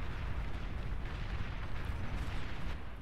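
Artillery fire in the real-time strategy game Beyond All Reason forms a steady, rumbling barrage of overlapping booms and blasts, dense and continuous, with no voices.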